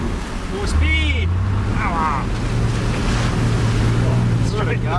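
A 4WD ploughs through deep water in Cape York, with the water surging over the bonnet in a loud continuous rush and a low engine drone beneath it. Voices are heard over the churning water.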